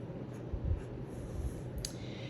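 Pen scratching out a unit conversion from centimeters to meters in a physical science lesson, a soft, continuous close-up scrawl with a brief sharper stroke near the end and no talking.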